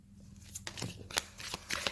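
Tarot cards shuffled by hand for a reading, giving a close run of crisp riffling and slapping bursts in an uneven rhythm.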